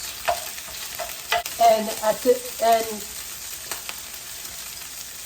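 Mushrooms fry in a pan with bacon, a steady close sizzle with scraping and stirring clatter, while a person speaks over it.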